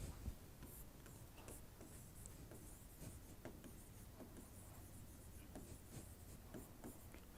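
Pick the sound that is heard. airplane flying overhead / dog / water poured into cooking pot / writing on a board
writing on a board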